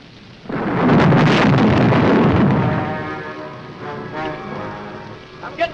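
Heavy rain pours during a storm in a 1955 sci-fi horror film, opening with a loud rumbling roll of thunder before easing into a steady, hissing downpour.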